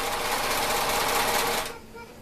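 A serger sewing machine runs in a steady, loud mechanical whir, continuous for about a second and a half, then stops abruptly, leaving a quiet room.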